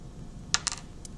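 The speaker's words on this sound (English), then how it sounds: "Let's roll our dice." A few small dice tumbling onto a hard table surface, two or three sharp close clicks in quick succession followed by a final faint tap, with no talking.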